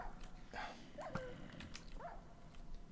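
A dog in the video game Minecraft gives faint whines and short yelps over a steady layer of game noise and other low sounds, a few brief cries scattered across a couple of seconds.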